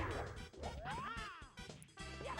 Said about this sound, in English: try to not get smashed by a Womp